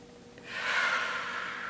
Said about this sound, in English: Let's take a nice deep breath.